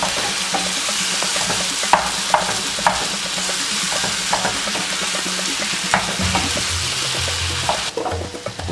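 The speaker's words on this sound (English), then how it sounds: "You need to mash this up a bit to have that porridge flavor." Yam being mashed and stirred in a pot for yam pottage: steady scraping and stirring with faint sizzling underneath, regular soft knocks of the utensil against the pot, close and moderately quiet, no talk.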